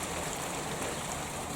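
Heavy rain falls in a steady, dense hiss, close and unbroken with no voices, a continuous wash of drops pounding down.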